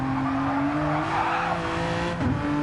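A Subaru GT1 race car in a racing video game at Lago Maggiore, its engine holding a loud, steady high drone that briefly dips and squeals near the end, as if braking into a corner.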